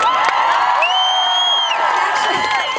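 A large concert crowd at Rock the Universe 2013 cheers and screams, with high sustained shrieks and whoops rising over a loud continuous roar and scattered applause.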